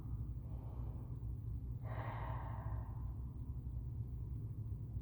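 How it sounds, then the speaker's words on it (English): A single deep cleansing breath during a vinyasa yoga session, one soft, airy exhale lasting about a second, heard faintly over a low steady room hum. "One last cleansing breath on your own."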